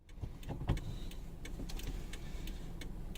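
Steady low rumble of a car driving through Alicante, a continuous engine and road drone with a few faint ticks and clicks inside the cabin, no talking.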